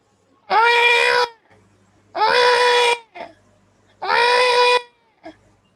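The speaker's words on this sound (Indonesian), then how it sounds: "mendengar ada suara tangisan bayi dari arah semak-semak" A baby cries from the bushes in three long, loud wailing bursts, each followed by a short pause and a brief gasping sob, over a faint low hum.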